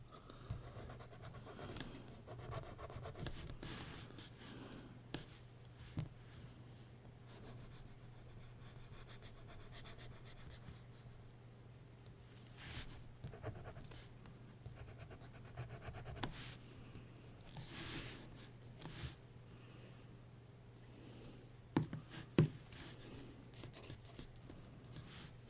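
Graphite pencil sketching hair on a drawing made from a Michelangelo sculpture, with soft, irregular scratching and rubbing strokes that continue at close range over a low, steady background hum.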